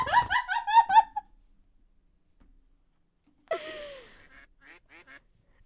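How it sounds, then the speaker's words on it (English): A burst of rapid duck quacks and flapping right at the start, then silence, followed by a sharp squawk and a few scattered softer calls. "the air was filled with endless quacks and wings and flaps"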